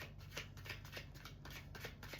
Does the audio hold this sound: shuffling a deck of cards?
yes